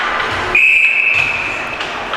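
Referee's whistle at a varsity high school ice hockey game after the puck hits the netting, a single sustained shrill blast of about a second over arena crowd noise.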